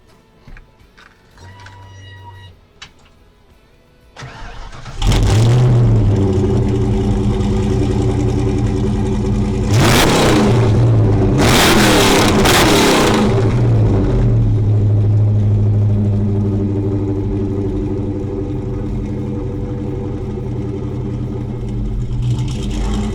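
A 1991 Ford Mustang engine fires up loudly and close, settling into a rough, rowdy idle punctuated by two sharp revs that climb and fall back, then holding a steady throaty rumble.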